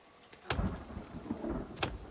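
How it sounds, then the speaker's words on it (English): Rain and thunder in The Forest video game: two sharp cracks about a second apart over a rumbling, crackling downpour, loud and close, with no speech. "Oh no, the rain."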